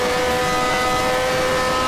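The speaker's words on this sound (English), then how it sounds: "Here comes the Ferrari as well with all his engine power." A Ferrari race car engine screams at high revs in a 1971 Formula One race at the Gran Premio d'Italia in a racing game, a loud sustained whine with a steady tone and no break.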